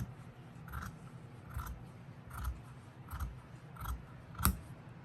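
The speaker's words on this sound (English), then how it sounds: "start at the bottom and cut from the corner all the way to that marked spot" Scissors snip through craft material while a DIY Christmas Santa gnome is being made, six quiet, evenly spaced cuts arriving about once every 0.8 seconds, close up, with the last snip sharpest and no talking.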